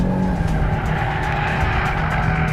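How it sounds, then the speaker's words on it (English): An Audi RS3 drifting, its tires squealing in a steady, loud screech layered over the engine's roar, heard close and sustained with no talking. "you get to do drifts like that in an Audi RS3"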